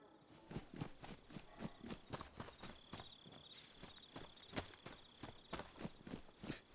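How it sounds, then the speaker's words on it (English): Many footsteps in the survival video game DayZ, a steady stream of sharp, overlapping steps crunching close by with faint ambient texture and a thin high tone in the background. "That's a lot of footsteps."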